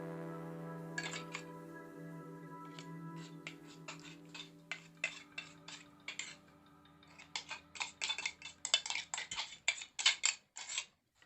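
A spoon mixes papaya paste into custard in a bowl, giving soft sparse clinks at first that grow into quicker, louder rhythmic tapping against the bowl, with no talking.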